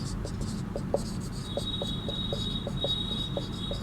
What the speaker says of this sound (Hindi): इसका उत्तर हम लोग यहाँ पर लिखेंगे